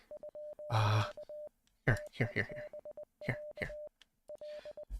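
Repeated electronic Morse code beeps from the video game Z.A.T.O., short and long tones in irregular groups, mixed with someone talking over them in bursts.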